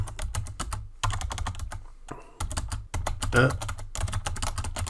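Fingers type on a computer keyboard in quick bursts of clicking keystrokes with short pauses, while someone speaks French over the typing.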